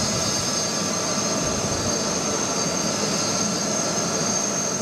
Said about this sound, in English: The first French presidential aircraft to touch down in Accra